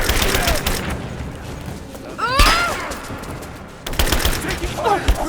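Bursts of automatic gunfire and heavy thumping shots ring out in a Rise of the Tomb Raider combat scene, with rapid fusillades, a sharp impact midway and further volleys near the end.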